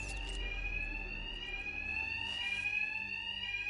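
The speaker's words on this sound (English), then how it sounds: "My attacks will be covered by the noise of the alarm." An alarm rings in the video game Batman Arkham Knight, a loud continuous electronic ringing with steady high tones over a low rumble, unbroken throughout with no talk.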